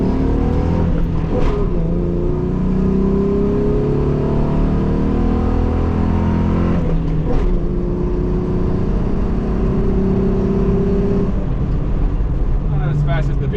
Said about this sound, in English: I don't know how this V6 sounds that good.